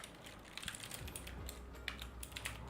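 Rapid typing on a worn computer keyboard, with dense, irregular clacks of keys close by and a few sharper strikes, all fairly quiet and continuous.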